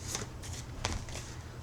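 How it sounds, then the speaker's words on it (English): Tarot cards shuffled by hand in a few quick riffling bursts separated by short pauses, close and fairly quiet, with no talking. "bear with me while we shuffle and see who's next"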